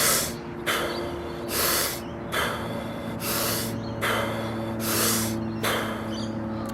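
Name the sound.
Wim Hof method deep breathing demonstration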